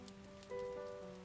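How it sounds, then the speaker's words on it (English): Steady rain falls on a city street in a soft, even wash, quiet and continuous, mixed with a faint tonal hum and no voices. "the rain was still coming down in a steady stream"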